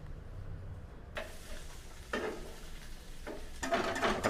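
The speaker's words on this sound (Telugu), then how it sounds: "ఇక్కడ ఫ్రై అవుతుంది." Fish frying in a pan gives a steady low sizzle, with bursts of louder crackling and scraping at intervals as it is stirred, nearby and with no talk over it.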